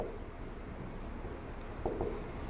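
Marker or chalk scratching across a classroom board while a heading is written, a steady faint scraping texture with a couple of brief heavier strokes near the end, no voices.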